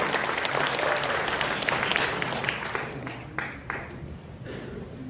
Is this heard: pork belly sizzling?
no